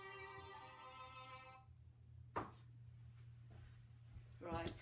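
Mobile phone ringtone plays a repeating tonal melody, fairly faint indoors, cuts off, then briefly sounds again near the end, with a low steady hum and quiet rustling throughout.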